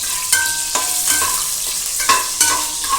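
Chilli frying in hot oil in a home kitchen, with a steady sizzle and several sharp stirring scrapes spaced through it, close and fairly loud, no voices.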